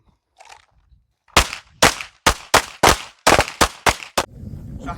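Close, sharp gunshots ring out during a rifle and pistol training class, about nine cracks in quick succession after a moment of quiet, each with a short decay.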